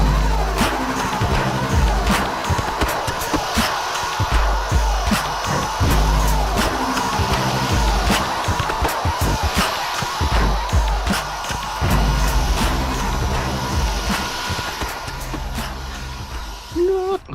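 A Goctopus toy drone whirs steadily in flight, its small motors buzzing loud and close without a break, with a few knocks and bumps mixed into the continuous hum.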